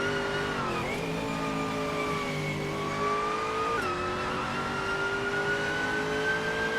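A Ferrari F360 GT race car revs in a racing video game, engine pitch climbing and dropping through gear changes with other cars blending in, loud and continuous with no voices.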